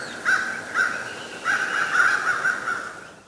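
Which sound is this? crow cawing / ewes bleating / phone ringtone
crow cawing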